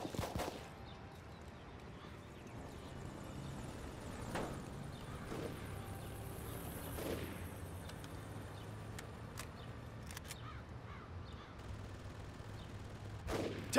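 Sporadic gunshots ring out in the military squad-combat video game Full Spectrum Warrior, played on Xbox One X. A few sharp, fairly faint reports are scattered over steady background ambience, with a louder burst at the very end.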